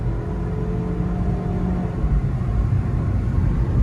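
A Nissan Versa with a small 4-cylinder engine, a flood car being checked for limp mode, accelerates hard with a loud, steady engine drone and road rumble heard from inside the cabin, rising slightly toward the end, with no talk.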